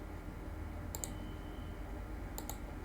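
Two quick pairs of sharp computer mouse clicks, one early and one later, faint and close against a low steady room hum.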